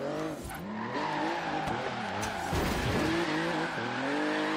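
A BMW i8 drifts in Forza Horizon 3, its engine note rising and falling through shifting harmonics while a continuous tire squeal runs beneath, loud and close for the whole stretch with no talking.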